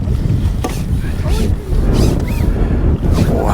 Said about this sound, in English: Oh, that wind's strong.